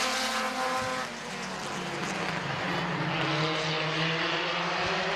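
Race cars roar loudly on Midvale Speedway, engines droning and shifting pitch as the field runs close, with one car sliding sideways.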